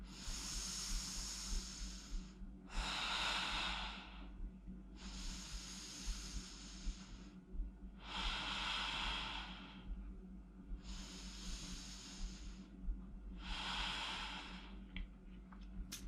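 Slow, deep breaths in and out during a hip and spine mobility workout, six long airy hisses alternating with pauses at a steady rhythm, close and fairly quiet with no talking.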